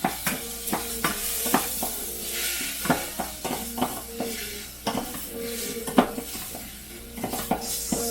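Food sizzles steadily in a clay pot while a wooden spoon stirs and knocks against its sides, giving irregular close taps and scrapes over a continuous frying hiss; no one speaks.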